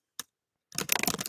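One sharp key click, a pause, then a quick burst of rapid typing on a computer keyboard, close and crisp in a quiet room.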